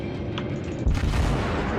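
Naval guns boom in a World of Warships ranked battle: a low, heavy blast lands midway and rumbles on under a thick, constant background roar.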